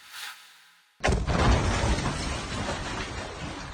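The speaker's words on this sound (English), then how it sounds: "freshly found bombs detonated as authorities tried to defuse them" Freshly found bombs detonating in Colombo as authorities try to defuse them: after a faint murmur, a sudden loud blast erupts and rolls on as a sustained roaring, crackling rumble.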